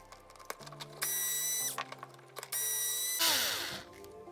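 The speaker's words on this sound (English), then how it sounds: "we're going to take off the bell crank steering assembly. There's 2 screws here." A power screwdriver whirs in several short bursts as screws come out of the bell crank steering assembly of a Traxxas Slash 4x4 RC truck, with light clicks and handling noises between the runs.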